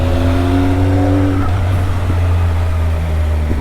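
A motorbike engine rumbles steadily at idle close by, a deep continuous drone that holds throughout with a slight shift in tone partway, no talk over it.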